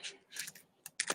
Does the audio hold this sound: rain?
no